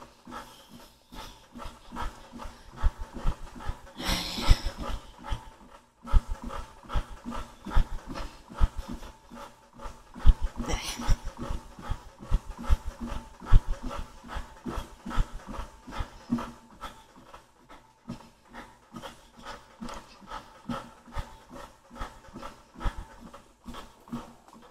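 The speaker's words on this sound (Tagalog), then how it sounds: "Hinihingal na." A person breathes heavily, out of breath after lifting, with repeated rhythmic panting close to the microphone and occasional louder gasping breaths.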